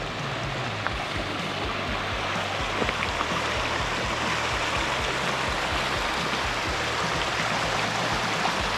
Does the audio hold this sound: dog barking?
no